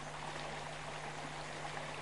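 A small trickle of water running down the Júcar river, a steady close rushing and babbling flow that continues evenly without pause.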